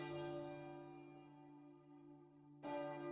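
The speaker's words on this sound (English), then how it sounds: "and the grand peal began." A huge metal church bell peals in the 1996 PC game The Hunchback of Notre Dame, a deep, sustained ringing tone that slowly decays before a fresh strike swells it again near the end.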